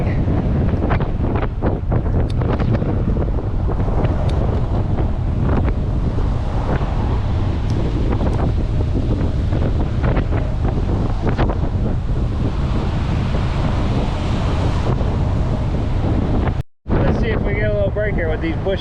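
Strong wind buffets the microphone throughout a bike ride along the Courtney Campbell Causeway beside choppy water, a constant loud roaring rumble with gusty thumps and a brief dropout near the end.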